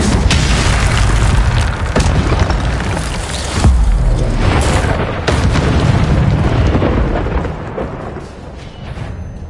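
Incendio fire spell blast in a Harry Potter video game, a loud booming, roaring burst with rumbling low end and several heavy thumps, fading toward the end.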